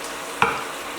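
Beef frying in a pan gives a steady hiss, cut by one sharp scrape and splatter as it is stirred. The sizzle carries on afterward, close up and without voices.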